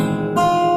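A chord strummed on a steel-string guitar with the open E string ringing, a single bright sustained strike heard close and alone.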